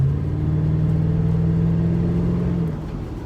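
A Ford Mustang GT/CS with a Borla Touring axle-back exhaust revs lightly in a neighborhood, a deep, smooth engine drone that holds steady and then eases off near the end, fairly tame in volume.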